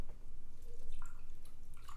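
Old fashioned cocktail mixture poured over ice into a glass: a short, close trickle of liquid with light dripping and sloshing, steady and moderately quiet.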